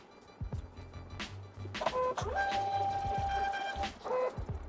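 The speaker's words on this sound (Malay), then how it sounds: "So sekarang ni kita dah boleh ready untuk print." A cheap thermal printer feeds and prints an airway bill shipping label, giving a steady whirring motor drone with mechanical clicks and brief electronic tones, close and fairly loud, with no speech over it.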